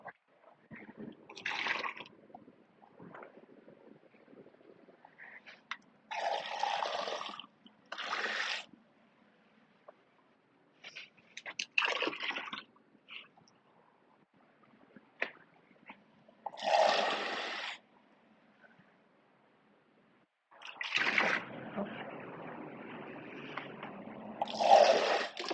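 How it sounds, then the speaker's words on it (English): A container is filled with clean water for a cupcake decorating session, heard as several separate bursts of running and splashing water, with quiet pauses between pours and a longer stream at the end. "I'll be filling my water with some clean water"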